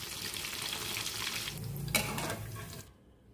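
Fish sizzles steadily in hot oil with green chillies and curry leaves for a Telugu-style fish fry; a sharp burst of spitting crackle comes near the end, then the frying cuts off abruptly.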